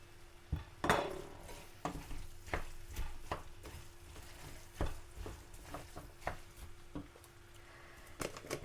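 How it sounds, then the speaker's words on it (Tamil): Potatoes and peas being mashed in a pan for a Sri Lankan roti filling, with repeated sharp utensil knocks against the pan every half second or so over a low sizzle, no talk. "உருளைக்கிழங்கு போட்டு நல்லா மசிச்சு விடுவோம்"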